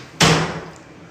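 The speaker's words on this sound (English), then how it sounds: "Shut the door." A door is shut in a room at home, giving a single sharp, loud thud with a short rattling ring that fades over a fraction of a second.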